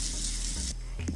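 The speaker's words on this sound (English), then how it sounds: "let's get in the shower" Shower water running in the Roblox Bloxburg video game, a steady hissing spray that cuts off partway through, followed by faint game sounds.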